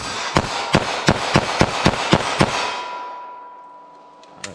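Nine rapid, evenly spaced pistol shots from a Smith & Wesson Shield EZ firing .380 ACP at 14 yards, loud and sharp, followed by a fading ring.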